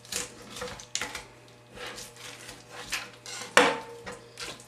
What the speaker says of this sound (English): work the knife between the skin and the cutting board